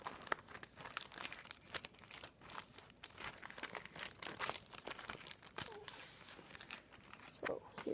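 Plastic wrapping around a Blackriver Ramps catalog is torn and crinkled by hand, a close, irregular series of sharp crackles and rustles, with brief talk between the bursts.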